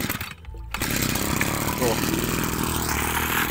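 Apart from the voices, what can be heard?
running TU26 mini engine driving an axial blower water pump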